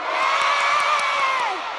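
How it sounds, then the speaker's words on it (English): A fan screams at a concert in Japan with a loud, sustained, high-pitched shriek that holds steady for nearly two seconds before sliding down, over a cheering crowd. "Excuse my screaming."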